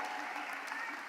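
A crowd at a Biden rally in Michigan claps in a dense, continuous burst of applause, heard from a distance and fairly faint.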